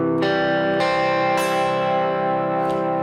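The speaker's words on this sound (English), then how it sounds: "my high E string kind of had this weird buzzy sound" Guitar strings picked one at a time, each ringing out in turn, with a slightly buzzy, rattling tone on one note; no talking.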